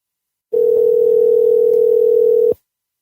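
A steady telephone dial tone sounds on a phone line. It is one loud unbroken hum that starts abruptly, holds for about two seconds and then cuts off.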